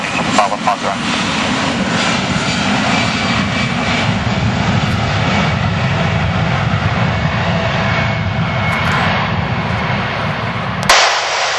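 A fixed-wing airplane roars steadily at LEVC airport in Valencia, a loud broadband engine rush holding for about eleven seconds before cutting off, with air traffic control radio speech over it.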